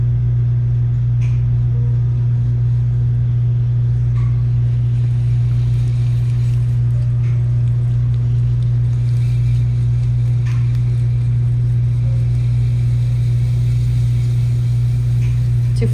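Pottery wheel spinning in a studio, a constant loud hum with a steady low drone and faint taps and scrapes over it.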